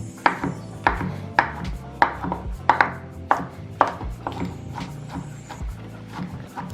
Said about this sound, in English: I'm just going to chop them up roughly, just to break them down into small pieces.